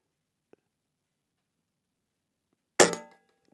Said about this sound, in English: Let's take a shot first.